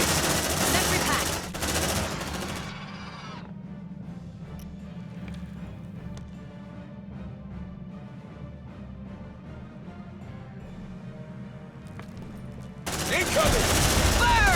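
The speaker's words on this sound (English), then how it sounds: "Packing sentry gun. Light him up!" Sentry gun in the Aliens: Dark Descent video game firing in sustained rapid automatic bursts, loud and dense at the start and end, with a quieter stretch of continuous rattling fire between.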